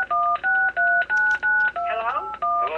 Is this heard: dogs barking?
no